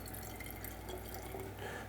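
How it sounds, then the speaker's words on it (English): Water is poured into a calcium chloride solution in a lab, a faint steady trickle and splash under a constant background hiss, with no talking. "I'm also going to add some water to the calcium chloride solution"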